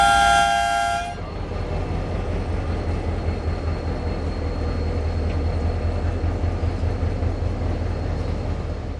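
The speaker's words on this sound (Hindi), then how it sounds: "जिना express Lahore railway station platform number 2 से मुकर्रर वक्त पर 1:30 बजे दोपहर कराची के लिए रवाना हुई।" Jinnah Express pulling out of platform 2 at Lahore railway station: a loud horn blast sounds for about a second, then gives way to a steady, heavy rumble of the moving train that carries on to the end.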